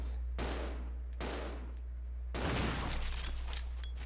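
Loud, close bursts of grenade launcher fire from the video game Resident Evil 0 crash out in three separate blasts, each tailing off in broadband rumble, with a sustained heavier barrage filling the last stretch.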